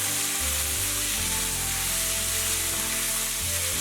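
Garlic scapes and wood ear mushrooms stir-frying in a wok with shredded meat, ginger and chili bean paste, a steady loud close sizzle with faint scraping of the spatula throughout.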